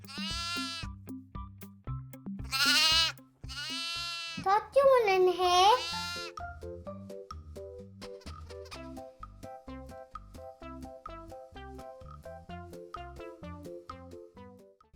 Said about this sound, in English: Look, sheep. One is mama sheep, one is baby sheep.